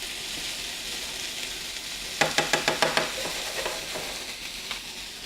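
Sausage meat frying in a pan gives a steady, close sizzle, with a quick run of about seven light tapping knocks partway through as the meat is stirred, and no talk.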